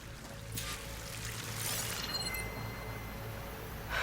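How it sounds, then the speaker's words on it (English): A waterfall rushes in the Horizon Forbidden West game world, heard as a steady, full broadband roar that holds evenly throughout, with faint sharper splashes passing over it and no talking. "That waterfall must be coming from somewhere."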